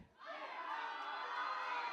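A crowd cheers at a powerlifting squat competition, rising quickly into sustained, loud shouting and applause that holds steady to the end.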